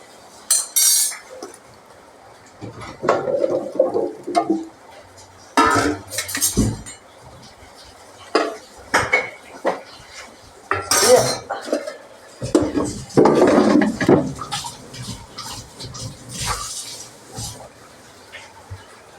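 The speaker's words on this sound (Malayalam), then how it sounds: "ഇനി നമുക്ക് നല്ലോണം അവിടെ മിക്സ് ചെയ്തിട്ട് എയർ ഫ്രയറിൽ എടുക്കാം" Salted potato fries are tossed and mixed in a bowl before going into an air fryer, giving irregular bursts of clinking and scraping from a utensil against the dish, with quiet pauses and a little talk between.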